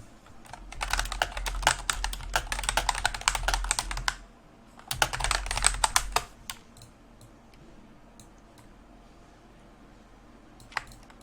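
Fingers type text on a computer keyboard in two quick, close bursts of clattering keystrokes separated by a short pause, then a few isolated taps as things settle to quiet.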